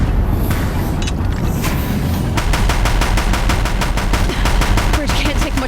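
Deathbringer machines in Horizon Zero Dawn pound a bridge with heavy gunfire, scattered blasts giving way to a loud, rapid, relentless machine-gun burst, with a voice briefly speaking under the din.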